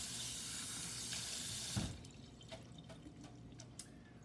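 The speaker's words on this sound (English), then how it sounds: "wash my hands" Running tap water pours steadily into a sink as hands are washed, then the faucet shuts off abruptly, leaving faint drips and small clatters, close and fairly quiet, no talk.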